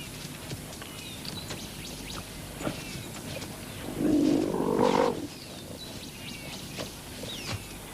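A lion in the Aberdares gives a deep rumbling roar lasting about a second, heard at moderate distance over an ambient wash of insects and birdsong, with no voices.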